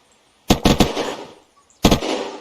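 A weapon in Unturned empties its magazine: a quick loud cluster of three or four sharp shots with ringing tails, then a pause and one more close, punchy shot.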